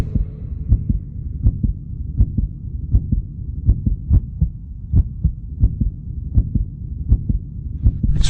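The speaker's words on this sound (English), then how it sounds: "This is a human heart. You've got one like that, beating in your chest." A human heartbeat thumping in a steady, slow rhythm of close, loud pulses over a low hum, with no talking.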